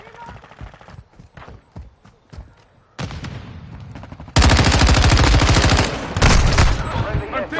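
Rapid bursts of automatic gunfire from Modern Warfare II, sparse single shots at first, then loud, dense sustained firing close by, with a player's voice heard over it.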